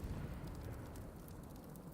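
British cannons fire in a battle in the video game Rise of the Ronin, a deep rumbling boom that fills the short clip at moderate loudness.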